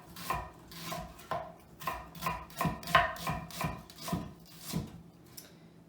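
A kitchen knife slices through half a peeled onion on a cutting board, giving about a dozen crisp, close chopping taps in a quick, slightly uneven rhythm.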